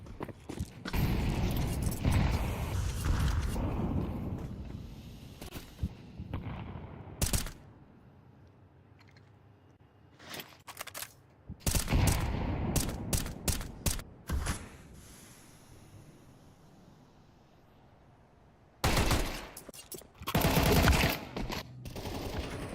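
AK rifle fire in a Counter-Strike match comes as several sharp, rapid bursts of automatic gunshots separated by quieter gaps with faint mechanical game sounds, loud and close.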